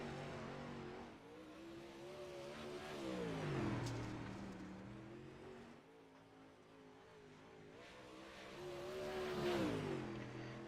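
Onboard race car engine from the number 8 car on track, climbing and dropping in pitch as it revs up through the gears and eases off, loud and close throughout with no voices.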